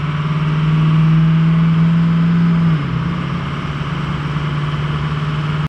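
Ford F-250 Amarillo Edition engine running steadily with a strong low drone, its pitch dipping briefly as the transmission shifts before settling into a slightly lower, even hum; no talking.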